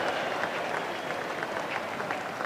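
A cricket crowd at a 1974/75 Ashes Test in Sydney applauds a stroke with steady, dense clapping that fills the whole stretch, a broad sustained wash of hands from the stands.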